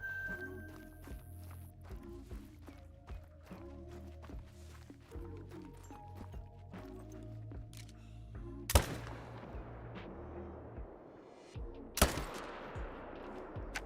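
Rifle shots ring out in a bear hunting video game. Faint shuffling and steps lead up to two sharp, isolated cracks several seconds apart, the second following the first after a short pause.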